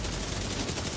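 A brief, dense stretch of continuous automatic covering fire in The Division 2, loud and close with rapid overlapping shots and no talk.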